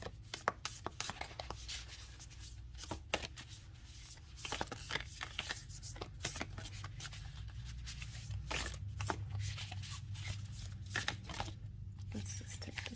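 A deck of Heart and Soul oracle cards shuffled by hand close up, a continuous papery riffling and slapping with frequent sharp snaps over low background hum.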